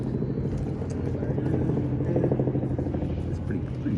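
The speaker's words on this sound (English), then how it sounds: "That's not a news chopper. That's just a tourist one." A tourist helicopter passes overhead at a sleep-in protest at Kirribilli House, a steady low rotor thrum and rumble lasting throughout, moderately loud over faint background voices.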